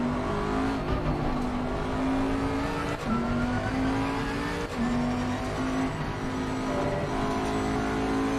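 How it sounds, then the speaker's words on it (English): Loud GT3 race car engine at Silverstone in a sim racing game, a steady high revving drone with rising pitch sweeps through gear changes as a faster car closes in on the international start-finish straight. "Okay, so by the time Danny catches up now, it'll be the international start-finish straight. The faster car is approaching."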